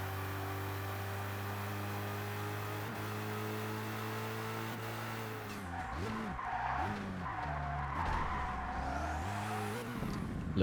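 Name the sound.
race car tires skidding while sliding, ToCA Race Driver 2 video game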